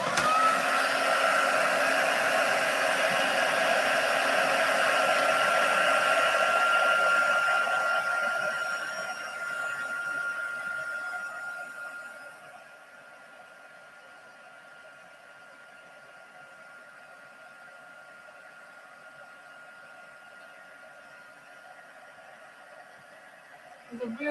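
A hair dryer blows steadily over a watercolour painting, a loud whooshing hum that then drops to a quieter lower setting before clicking off at the end.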